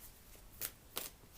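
Tarot cards are shuffled in quiet, soft riffling rustles with two brief crisp snaps close to the microphone.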